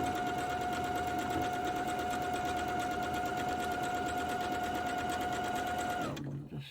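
A sewing machine stitches a quilt seam in one steady, continuous whir with a high motor whine, running for several seconds and then stopping abruptly at the end.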